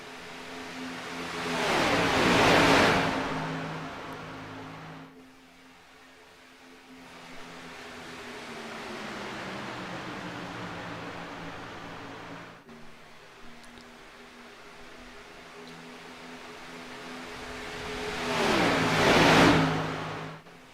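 Race cars scream past in a racing league event, two loud high-revving passes swelling and fading with a quieter distant engine drone between them, heard from trackside.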